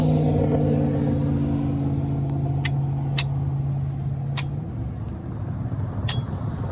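A car drives along the road, heard as a steady, close engine and tyre rumble from inside, with a few faint clicks over the drone.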